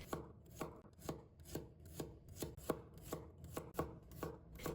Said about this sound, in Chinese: 大蒜剥好后切成薄片，稍微切得薄一点